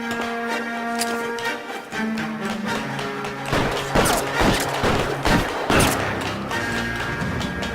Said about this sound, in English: I'll lay down some suppression fire.